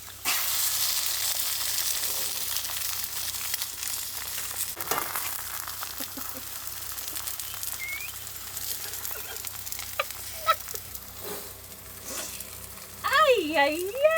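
Eggs fry in a pan inside a camper van, giving a steady hiss and sizzle with some stirring clatter and a few small knocks, plus a brief whistle-like tone near the end.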